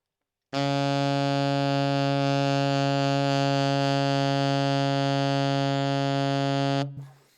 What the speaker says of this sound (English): And the low B flat sounds like this.